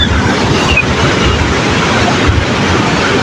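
Floodwater rushes through a drain in a steady, loud, broadband roar that stays constant throughout, with no voices heard.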